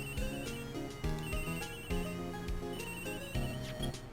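A telephone rings in the Phoenix Wright video game as a repeating electronic ringtone, loud and close, with a steady rhythm of bursts and no talking.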